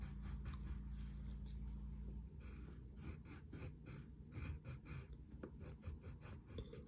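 A pencil sketches Gwen Tennyson's eyebrows on paper, with short, faint scratchy strokes in quick bursts and a low hum underneath.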